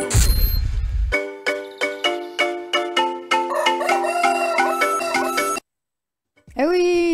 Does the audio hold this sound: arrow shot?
no